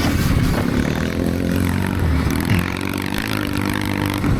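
A Stark Varg electric dirt bike is ridden in a 2025 Biltwell 100 race. Its motor whine holds loud and steady close by, mixed with clattering and wind roar.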